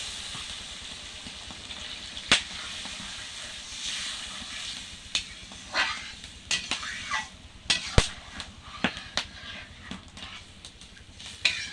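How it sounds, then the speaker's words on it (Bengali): Water hits a hot pan of potato and pointed gourd curry with a loud steamy hiss, followed by crackling spits and pops that keep bursting irregularly as the liquid bubbles. "এখন দিয়ে দেবো জল।"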